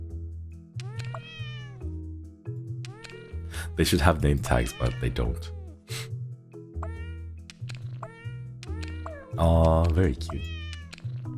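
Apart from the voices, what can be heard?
cats meowing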